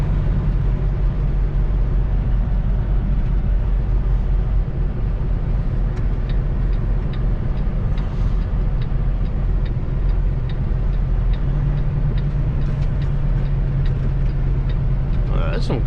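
A car driving past with steady broadband road and engine rumble that runs through the whole stretch, plus a few faint ticks and a low hum rising near the end.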